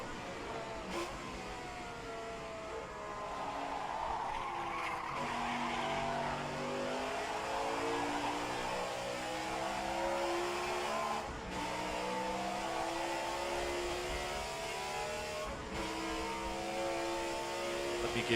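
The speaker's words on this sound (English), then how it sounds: "I couldn't quite sort the gearing out, so I'm running on the limiter here massively." A race car in an open-wheel racing game at the Italian Grand Prix, its engine bouncing off the rev limiter at high revs for a long stretch, loud and close, with small pitch dips.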